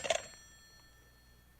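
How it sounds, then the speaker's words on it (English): Telephone bell in an old-time radio drama, one short ring burst at the start that fades out quickly, leaving quiet room tone. "It was the next afternoon, a Saturday, that the phone rang."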